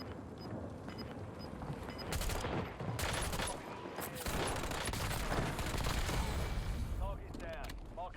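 Rapid bursts of video game gunfire in a multiplayer shooter match crackle almost nonstop over dense busy game sound, loud and close, with heavier volleys in the second half.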